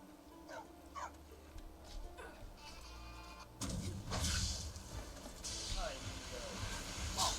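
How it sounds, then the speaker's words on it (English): A dog in the video game Skyrim barks and yips in short bursts, several sharp calls spread across the stretch, moderately near, mixed with in-game ambience and a voice talking. "Seems like the dog didn't like us very much."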